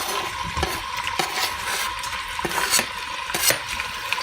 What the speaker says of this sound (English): next step, add your bacon or pancetta